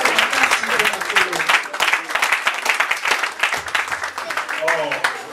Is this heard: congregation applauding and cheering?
yes